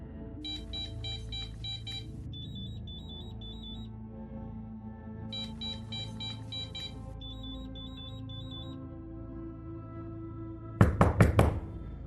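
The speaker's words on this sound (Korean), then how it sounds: "그러자 이내 현관문 도어락 소리가 들렸습니다" A front-door digital keypad lock opening: two rounds of electronic beeping tones with chime melodies, clear and close, then a quick cluster of mechanical clunks as the bolt releases near the end, with no voices.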